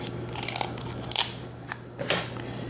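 Scissors snipping through king crab shell, a few sharp crunchy cuts and crackles in a quiet room, close and fairly soft.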